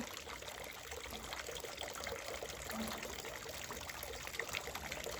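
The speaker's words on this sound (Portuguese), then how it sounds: "Olhem só minha fonte agora que estou a colocar água." Water trickles and splashes gently in a small fountain as more is poured in, a faint, continuous burble with no voices.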